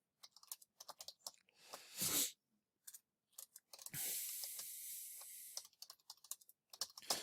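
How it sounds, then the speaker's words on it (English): Quick bursts of typing on a computer keyboard, clusters of close key clicks separated by short pauses, with a longer hiss-like stretch in the middle. "in here you can type whatever you want"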